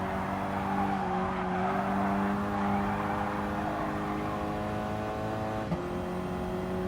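Ford Focus ST in Gran Turismo Sport on the reverse Dragon Trail run, engine droning steadily at high revs through a corner, pitch dipping and climbing again near the end, with faint tire scrub and no talk.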